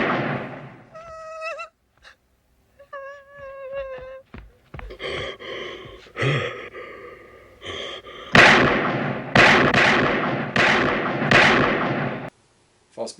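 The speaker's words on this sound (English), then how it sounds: "Gets shot 6 times." A horror movie scene from the Halloween series in which a man is shot six times: a run of loud, evenly spaced sharp blasts near the end, after quieter stretches of gasps, breathing and tonal voice-like sounds.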